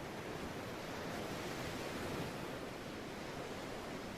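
Ocean waves wash steadily onto the beach at Puri in a dense, unbroken roar of surf with no voices.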